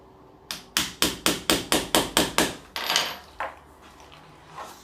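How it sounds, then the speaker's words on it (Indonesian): A hammer drives nails into a face shield frame with about nine evenly spaced, sharp, close strikes, followed by a few scattered, softer knocks and rattles, with no one speaking. "Terus kemudian kita paku di sini."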